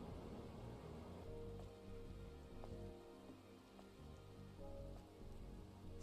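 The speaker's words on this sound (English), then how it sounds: "This must be Earth's rain." Rain falling in the video game Stellar Blade over a colossal ruined city, a steady, soft hiss of drops on surfaces with a faint low rumble beneath, continuous and evenly spread.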